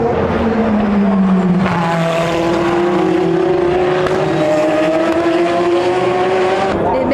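Race cars at the 24 Hours of Le Mans sweep through a tight corner at full throttle, engine notes sliding in pitch as they pass, loud and continuous with a faint tire squeal.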